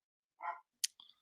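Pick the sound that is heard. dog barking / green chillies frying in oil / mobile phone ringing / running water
dog barking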